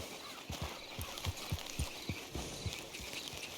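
Horse hooves clip-clopping at a slow walk in Red Dead Redemption 2, a steady, even rhythm of soft thuds, moderately close, with a faint background bed and no talk.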